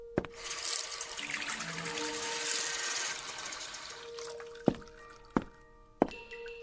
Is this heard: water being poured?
yes